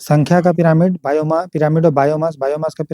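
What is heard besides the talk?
No distinct noise like a dog, phone or traffic.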